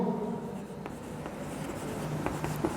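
Steady scratching and tapping of a teacher writing on a classroom board during a chemistry lesson, with short strokes at an even, unhurried pace over a quiet room hum.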